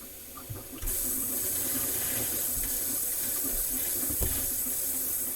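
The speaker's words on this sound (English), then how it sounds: "I'm going to plug it up and I'm going to let the sink fill up about halfway." A newly installed bathroom faucet is turned on with a sudden gush, then runs into the plugged sink as a loud, steady rushing hiss while the basin fills, with a faint clunk partway through.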